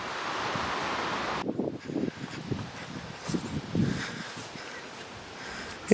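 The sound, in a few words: chilly northwest wind outdoors on a farm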